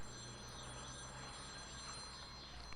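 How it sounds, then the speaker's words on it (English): A telephone ringing in a DOS full-motion-video murder mystery game, a steady continuous electronic ring held for the whole stretch, close and clear with no talk over it. "Phone's ringing."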